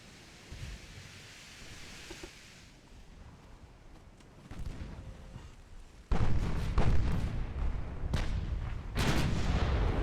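Big naval guns of warships in the Ultimate Admiral: Dreadnoughts game, set in 1918, fire heavy booming salvos that grow louder and come in close, repeated blasts, with no talking.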